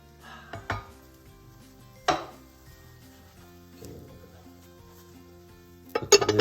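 A pot lid and pan clank against each other in a kitchen while vegetables roast, with a few sharp metallic knocks spaced apart and a quick burst of clatter at the end.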